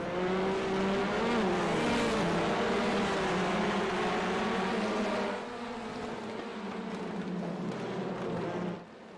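A pack of some 37 race cars roars off the start at Brands Hatch Indy, engines droning and shifting pitch together in a loud, sustained wall of sound that eases slightly toward the end.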